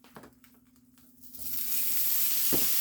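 Hamburger meat and sausage hit a hot pot and sizzle loudly, a dense frying hiss swelling up after a few clunks and scrapes and holding steady, close by.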